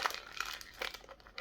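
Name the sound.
gift wrapping paper being torn and unwrapped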